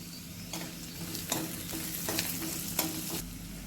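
Onions sizzle and fry steadily in hot oil for jackfruit curry, with a continuous crackling hiss and a few brief stirring scrapes, close and alone with no talk.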